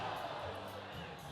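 Crowd noise at a shuffleboard championship final, a broad wash of murmuring and cheering heard at a distance with no distinct individual voices.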